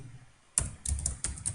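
Short bursts of computer keyboard typing while entering code for a PHP MySQL book management application, a few crisp close keystrokes after a quiet start, with no talk.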